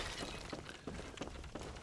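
Clay jars shattering one after another in Bloodborne, a rapid run of crashing breaks and crunching debris over steady game ambience, loud and close with no pauses between impacts.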